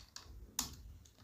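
Four sparse, quiet keystrokes on a computer keyboard while a word is typed into AutoCAD, with one sharper clack in the middle and no talking over a low background hum.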